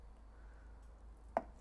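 A single soft knife stroke through cooked, microwaved bacon on a cutting surface, one faint quick chop amid quiet room tone.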